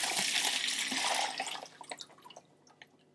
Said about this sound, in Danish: Amandaetetraerne hælder jeg ned i et net her